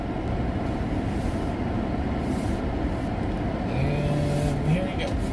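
Hybrid Jeep rolling slowly through a parking lot, a steady low road and engine rumble continuing without a break, with a brief faint tone rising near the end.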